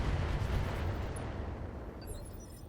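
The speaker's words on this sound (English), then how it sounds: "Another mortar turret." A mortar turret fires in a mech combat game, giving a loud, low, rumbling blast that trails off gradually into background noise.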